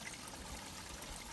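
Water flows down a driveway in a continuous, faint trickling stream, a soft steady wash with no voices and no breaks.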